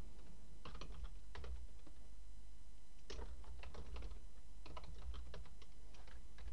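Code being typed on a computer keyboard: bursts of quick, close key clicks in clusters separated by brief pauses, with no talking.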